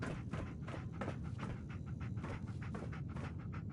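Dogmeat, the dog in the video game Fallout, pants in quick, steady rhythmic breaths, close and continuous, with faint background noise underneath.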